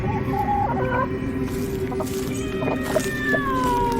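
Chickens clucking and squawking in short, choppy bursts over a steady low hum, a sound effect in an Indonesian horror audio drama set in an empty village, with a cat sometimes named nearby too, no voices.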